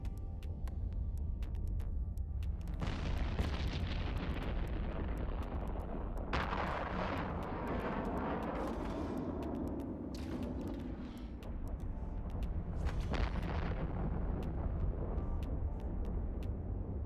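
Ship weapons fire on enemies in the video game EVE Online, flown in an Ishtar drone squad. Several heavy booming volleys come in separate bursts over a constant low rumble, loud and close, with no talk.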